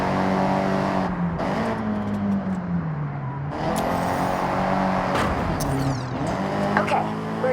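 A Nissan Silvia drives in the racing game Forza Horizon 6, its engine droning and shifting pitch steadily over several seconds, with someone talking over it.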